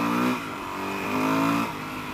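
Suzuki DRZ400SM dual-sport motorcycle in second gear, a close, loud engine drone that rises in pitch, dips at a shift and rises again, then drops off.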